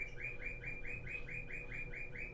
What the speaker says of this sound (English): my bird is trying to talk to me